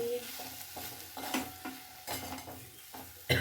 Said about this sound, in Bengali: ঘিটা ভালো করে মিক্স করে নিয়েছি।